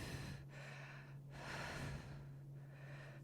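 Slow, deep breaths during a yoga pose, close and fairly quiet, with three long inhale-exhale swells over a steady low hum.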